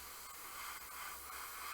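A paint airbrush test-sprayed onto an arm while painting an Adepta Sororitas Castigator miniature gives a steady, even hiss of fine spray with no talking.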